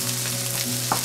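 Sweet peppers fry quickly in a pan with a little salt, a steady close sizzle with a faint stir or clink near the end.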